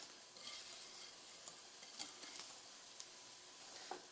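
Hot milk being whisked into eggs for pastry cream, soft scattered taps and scrapes of stirring over a faint steady hiss, quiet and close with no voices.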